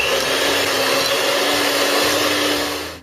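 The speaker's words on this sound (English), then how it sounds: "Now let's whip our ganache." An electric hand mixer whirs steadily and loudly at high speed while whipping set chocolate ganache for an eggless chocolate cake, a constant motor drone that tapers off at the end.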